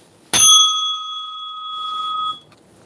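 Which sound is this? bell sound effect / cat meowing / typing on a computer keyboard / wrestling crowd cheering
bell sound effect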